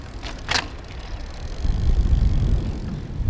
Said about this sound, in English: I'm gonna go off the curb now